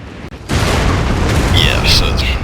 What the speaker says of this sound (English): Show you some cannon action. He gets a good shot in. I think it's on this volley.